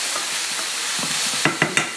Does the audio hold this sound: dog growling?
no